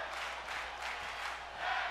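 A crowd at a tag team wrestling match in SmackDown vs Raw featuring NXT chants as a steady, broad roar. The swelling arena noise is loud and fills the clip, with no distinct voices.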